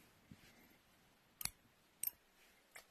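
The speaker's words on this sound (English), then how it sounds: "so we snip our yarn" Scissors snipping yarn during a crochet project, heard as a few faint, sharp clicks spaced roughly half a second apart in a quiet room, with no voice over them.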